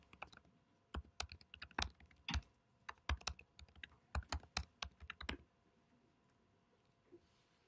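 Keystrokes on a computer keyboard while text is entered into a console program, a quick irregular run of clicks in short bursts, close and fairly quiet, with the last few seconds near silent.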